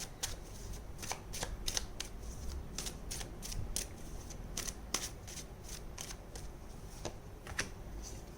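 Tarot cards are shuffled by hand up close, a quick run of crisp riffling and slapping bursts in an uneven rhythm, heard alone without talk.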